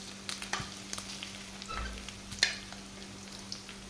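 Crushed garlic and cut green chillies frying in a pan for a salted jackfruit stir fry, with a steady low sizzle broken by light stirring scrapes and taps of a spoon, close and fairly quiet.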